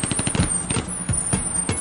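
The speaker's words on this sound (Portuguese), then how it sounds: "Só a vinhetinha dos quantos dias faltam" Broadcast countdown jingle for a Cuiabá radio/TV interview segment, blending rhythmic bus sounds such as air-brake hisses and engine pulses, steady and close with repeated bursts and no talk.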